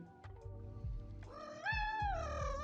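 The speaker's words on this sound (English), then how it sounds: "Cat would like to say hi" A pet cat meows several times up close, drawn-out rising and falling cries with a low rumble of handling underneath, no talking.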